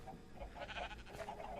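Sheep bleat in a Minecraft game, with a couple of short wavering bleats over a steady bed of game background sound, moderate in level.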